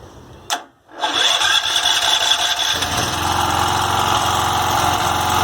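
A rebuilt 2.5 kW generator engine cranks with a short burst, falls briefly quiet, then catches on the first pull and settles into a steady, close, buzzing idle with a rhythmic low vibration.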